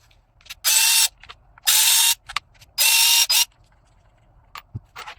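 Three long loud whirring bursts, with a short fourth, from a power driver backing out black screws of a TOTAL 4Ah P20S battery pack, separated by quiet pauses and small clicks.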